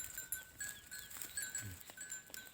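Dumba crossbreed sheep grazing in a village flock bleat faintly a couple of times amid rustling, shuffling and scattered ambient noise outdoors, with no one talking.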